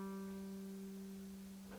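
A single G note played closed on a string instrument, fingered at the 5th fret of the D string, rings steadily and softly for under two seconds, alone and quiet.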